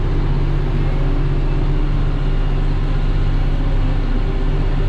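A John Deere 5075E tractor pulls a raised mower up a hill, its engine holding a steady, loud, unbroken drone throughout with no talking.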